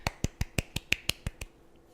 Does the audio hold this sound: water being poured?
no